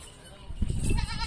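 Goats at a livestock market, a low bleat rising among the herd about midway through, close and moderately loud over a murmur of background noise.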